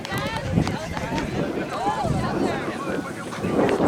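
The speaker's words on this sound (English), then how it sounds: "you can tell from the wind there, it's gonna take my hat off" Strong wind buffeting the microphone at an outdoor ultimate frisbee semifinal, a continuous low roar and flutter lasting throughout, with distant crowd and field noise mixed in.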